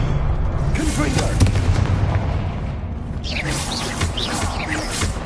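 Confringo blasting spell cast in a wizard video game: dense, continuous booming blasts and crackling bursts over a rumbling background, with a shouted incantation voice in the mix.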